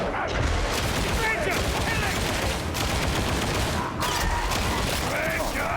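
Dense, continuous gunfire and explosions in a video game battle, including sniper fire, roaring loudly throughout with overlapping blasts and chaotic noise, and voices faintly mixed in.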